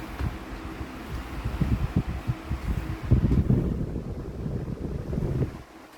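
A Holmes 16-inch stand fan blows air hard at close range, a rough, gusty low rumble with buffeting pulses that swells and eases and then drops off near the end.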